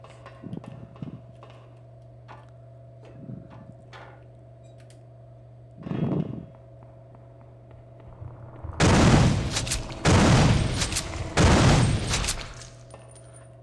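Pistol fire in System Shock 2 lands as a few loud, close bursts of sharp reports clustered near the end, after scattered quieter ticks and a low steady game hum.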